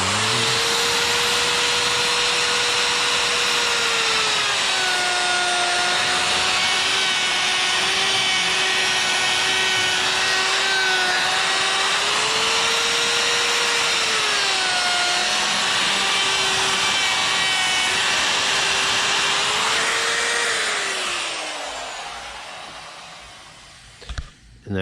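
A chainsaw carves eyes into a chainsaw-carved wooden bear, running steadily and loudly up close for about twenty seconds with rising and falling revs as it bites into the wood, then winding down to silence.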